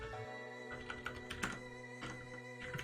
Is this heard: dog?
no